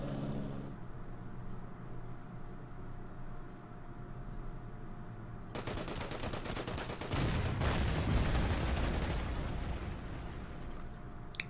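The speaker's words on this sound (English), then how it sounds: "Enemy artillery fire on my AT gun" Artillery fire in the World War II strategy game Order of Battle, near Paris in 1944: a dense rattle of rapid explosions and blasts erupts after a quiet stretch, then fades back to a low background hum.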